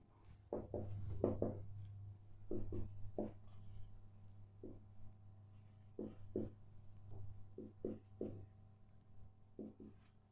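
A pen or marker scratches out a question by hand on a board or paper for a missing-number maths lesson, with short bursts of strokes separated by pauses, fairly close and quiet, with no talking.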